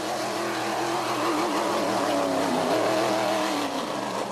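Powerboat racing boat (Cobalt Racing Porter) with a 6-litre Chevy engine, a steady loud engine roar held throughout with a slight rise in pitch, heard close and alone.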